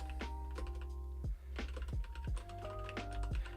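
Keys clack on a new computer keyboard in a quick uneven run of taps, with a few heavier thumps mixed in, close and fairly quiet over a steady hum.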